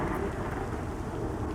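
Steady rain falls in the fantasy game Pantheon: Rise of the Fallen, a dense, even hiss of drops with a low rumble beneath, continuous and fairly loud with no voices.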